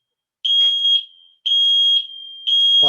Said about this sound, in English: pardon me, that sounds like a fire alarm